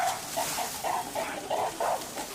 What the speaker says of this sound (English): One of the mothers starts howling.